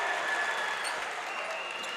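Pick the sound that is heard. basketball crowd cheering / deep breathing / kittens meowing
basketball crowd cheering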